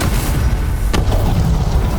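A fireball explosion in Dragon Age: The Veilguard, a heavy rumbling roar filling the scene with a single sharp burst midway, loud and dense throughout.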